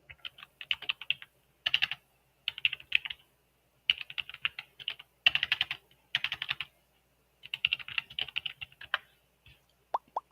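Computer keyboard typing comes in quick bursts of close, crisp key clicks separated by short pauses, alone with no talk.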